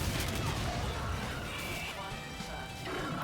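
Dense, continuous automatic gunfire and crashing impacts from the shooter game Call of Duty: Infinite Warfare, loud and sustained throughout with a steady rattle of shots and explosions.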